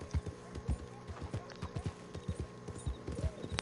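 Hooves of a scrawny nag clip-clop steadily in Red Dead Redemption 2, a quick, even trotting rhythm of close, moderately loud thuds over a low ambient bed.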